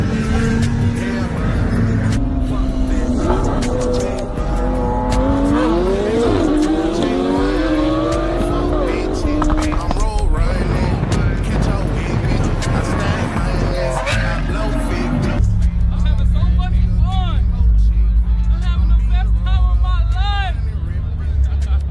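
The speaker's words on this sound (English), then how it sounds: "they bought some fast ass cars, and they wanted to test it on the Miami streets" Fast sports cars racing on Miami streets, engines revving and climbing through gears with tire squeal, a loud roaring pass, then a shift to crowd noise and voices talking over the traffic.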